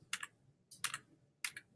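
Someone presses the arrow keys on a computer keyboard three times in a steady rhythm, each a crisp close double-clack against near silence.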